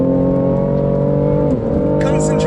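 A BMW M3 CS driven hard around a race track, its engine note loud, steady and droning close to the microphone, dipping briefly as it shifts before building again with added road and wind roar.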